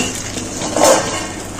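A lid is placed over a frying pan of shami kebabs, giving one brief metallic clink in the middle against a quiet kitchen background.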